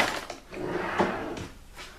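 A makeup storage drawer pulled open, a close wooden sliding rumble with a couple of light knocks and rattles of small items inside.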